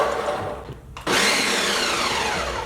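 A blender pulses half a cup of whole cranberries, going quiet for a moment before the motor kicks in with a loud, steady whirr that holds to the end.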